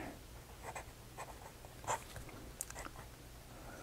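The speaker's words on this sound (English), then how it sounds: "now for a writing sample of the Sheaffer Intensity" A Sheaffer Intensity fountain pen with a medium nib scratches across paper in short, quiet strokes and small taps, close and soft against a faint room background.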